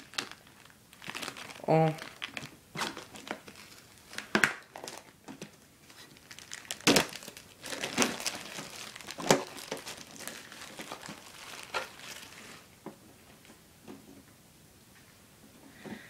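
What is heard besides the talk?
opening a Pokémon card box, crinkling packaging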